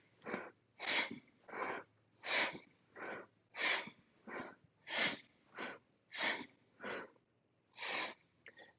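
Forceful rhythmic breathing during a yoga exercise, about a dozen sharp, breathy bursts spaced under a second apart, close and fairly even in strength.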